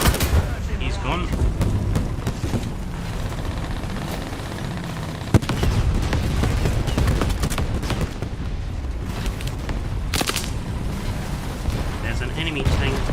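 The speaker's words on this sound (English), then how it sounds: "My team is shooting at it." Tank battle in War Thunder with German tier 1 armour: dense, continuous bursts of gunfire and heavy booms rumble without pause, one sharp crack standing out midway, under the din of battle.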